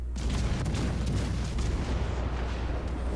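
Torpedoes striking and sinking a ship in the naval video game World of Warships Legends, a dense, loud rumbling explosion texture with low booming bursts throughout, no talking.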